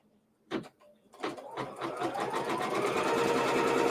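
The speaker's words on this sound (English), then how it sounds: "Now I'm going to stitch this down with the next step." An embroidery machine stitches quilt pieces held in the hoop. After a few faint clicks it runs up to a steady, close, continuous whirring hum that holds to the end.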